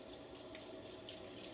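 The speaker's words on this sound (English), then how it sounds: "If we run our little sink here" Water running steadily from a small camper van sink tap, a soft continuous trickle close by with no talk.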